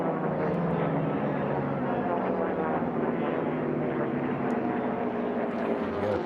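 A racing aircraft at the National Championship Air Races accelerates around a pylon, its engine a steady loud drone holding close and even throughout with no pauses.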